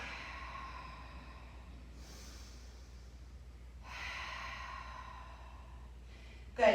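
Deep, slow breaths during a held yoga squat with elbows inside the knees and palms pressed together, a few soft airy exhales spaced several seconds apart, quiet and close, with a sharper breath at the very end.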